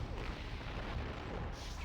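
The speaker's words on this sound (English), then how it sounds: "shoot the freaking tow missiles off" Missiles launched in the video game Conker's Bad Fur Day make a dense, continuous rumbling roar of booming blasts, loud and sustained throughout with no talking.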